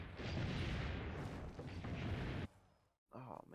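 Cannon fire in Assassin's Creed: Brotherhood, a heavy rumbling boom that fills the first two and a half seconds and then cuts off, followed by a brief burst of voice.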